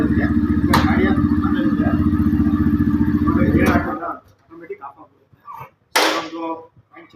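Yamaha FZ V3 motorcycle engine idling steadily up close, a loud, even rumble that cuts off abruptly partway through, leaving scattered quiet clatter and one brief sharp noise.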